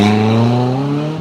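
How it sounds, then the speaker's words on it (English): A car engine roars loudly in a parking lot, a strong sustained tone with a slight pitch drift over about a second, close and dominant with no voices. "People trying to be silly with their cars. I'm not scared of your engine, dude."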